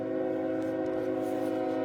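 Train horn sound effect playing a sustained, loud multi-tone blast that holds steady, alone with no talk over it.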